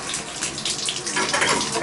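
A hot water tap runs into a bathtub with a steady, close rushing flow that stays fairly even for the whole stretch, with faint voice in the background.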